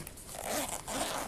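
A zipper on a small canvas carry case for a diamond field sharpening system is pulled in two quick close strokes, a brief scratchy rasp.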